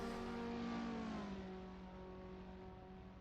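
Race car in the Assetto Corsa racing game during a Skip Barber round at the Austrian GP circuit, engine note sweeping past and dropping in pitch as it fades away, with no voices.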